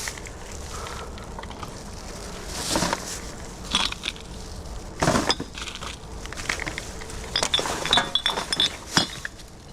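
Litter-picking tongs grab at wet glass, giving irregular clinks and crunchy scrapes, some sharp and close, scattered over a rustling outdoor background.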